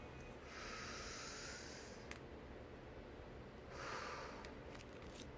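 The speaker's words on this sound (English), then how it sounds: "Let's take one deep breath to close out the space." A slow, deep breath drawn in and let out, very quiet and close, two soft airy swells of inhale and exhale over a steady low background hiss.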